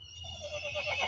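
A studio sound-effect button plays a horse neigh, a short faint whinny with a wavering, rising pitch, alone and without talk.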